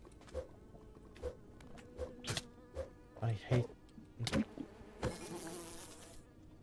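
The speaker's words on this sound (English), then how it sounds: "Oh, for fuck's sake, I hate the mosquitoes." Mosquitoes buzz in a video game as several short whining bursts come and go at a moderate level, with brief speech over them.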